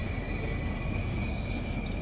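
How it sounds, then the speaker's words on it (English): Rumbling train noise from the Southeastern High Speed route in Train Sim World 3, rolling above as the train heads downhill into its first tunnel; a steady, loud, dense roar with a faint high wheel squeal running throughout, no talk. "the train rolling up above us as we go down into the tunnel"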